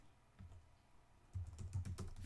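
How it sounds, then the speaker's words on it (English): Close-up typing on a computer keyboard: a few soft isolated keystrokes, then a quicker, denser run of clicks and taps in the second half, with no voices. "I'm typing it in here"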